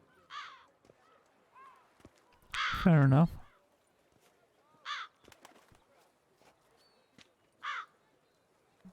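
Crows caw in The Witcher 3: Wild Hunt, with several sharp, separate calls spaced across a quiet scene, one louder burst near the middle, and a brief line of speech.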